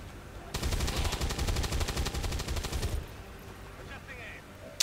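Rapid automatic gunfire aimed at a purifier enemy in XCOM 2: War of the Chosen, one loud sustained burst of fast repeated shots lasting a couple of seconds, then quieter game sounds and a brief click at the end.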